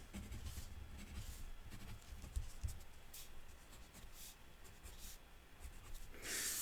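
A pencil sketching a fish outline on paper, soft scratchy strokes in short repeated bursts, close and quiet.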